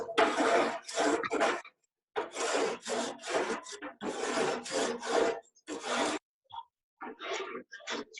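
A grill tool scrapes across metal grill grates in a series of rough, rasping strokes, loud and close, broken by short pauses between passes.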